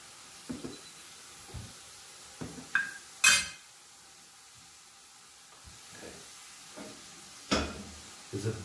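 Mutton curry with onions, star anise and chili cooks in a pot, giving a faint sizzle broken by scattered clinks and scraping stirs, close and fairly quiet, with no voices.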